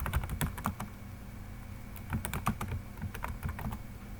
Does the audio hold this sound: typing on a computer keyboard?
yes